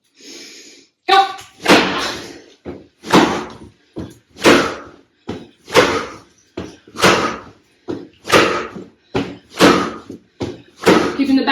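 Slam exercises in a home bone-density workout: about a dozen heavy thuds on the floor, evenly spaced roughly a second apart, loud and close.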